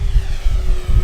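An FMS P-47 Razorback electric RC model warbird, 980 mm span, passing slowly overhead: a loud, steady low propeller drone with a pulsing throb and a faint motor whine, heard alone.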